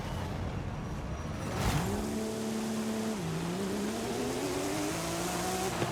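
Porsche #65 911 Desert race car in Forza, a loud close engine tone rising through the revs after a sharp burst, then shifting down and climbing again, running alone without voices.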